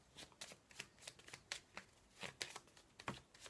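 Playing cards are shuffled for a card reading in a quick string of crisp riffling bursts, close and fairly quiet, with slight pauses between.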